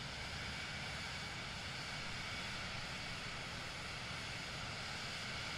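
Steady drone of a Caribou propeller plane's engine in Microsoft Flight Simulator 2020, a faint, unbroken broadband hum with no talk.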